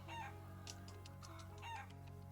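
In the video game Trails of Cold Steel 2, a farm chicken clucks in quick repeated bursts, close and clear, over a soft steady background drone.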